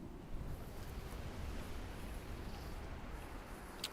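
Ocean waves in the video game Shipwrecked produce a low, steady wash of surf and wind-like rumble, faint and continuous with no distinct breaks.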